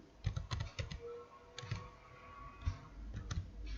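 Keys clatter on a computer keyboard while an Excel ROUND function is typed, irregular clusters of close, crisp clicks with short pauses between bursts.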